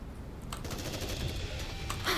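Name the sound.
gunfire in the video game NIKKE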